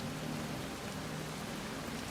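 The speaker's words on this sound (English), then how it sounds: "Literally looking that good of a rainfall and a rainforest" Steady rainfall in a rainforest in the video game Soulmask, a dense, even hiss of rain with no breaks and no voices.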